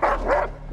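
A dog in The Last of Us episode 6 gives a quick double bark, loud and close, two sharp woofs in under a second.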